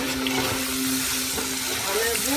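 French fries sizzle steadily in hot oil in a home kitchen in Bikrompur, Munshiganj, a continuous close crackling hiss with a faint tonal hum underneath.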